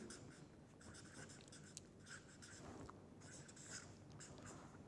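A lecturer writes on a board or tablet, producing soft, intermittent scratchy strokes against a quiet, hissy room background.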